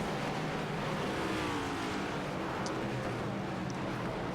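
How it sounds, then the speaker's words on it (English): Race cars from an ARCS Darkside Mustangs A2 Cup Series race pulling off the track: a steady, broad engine roar that stays loud and continuous for the whole stretch. "See cars pulling off here"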